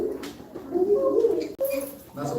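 A human voice imitates a barred owl call, a few low, cooing hoots rising and falling in a close, clear sequence.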